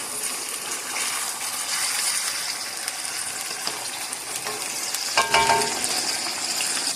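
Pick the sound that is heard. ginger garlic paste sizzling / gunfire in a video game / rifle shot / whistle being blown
ginger garlic paste sizzling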